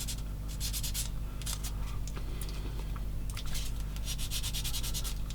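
Fine sanding of a small plastic part for a Takom 1/16 scale M10 IIC Achilles tank model, heard as quick bursts of close, dry rubbing strokes in irregular groups over a low background hum.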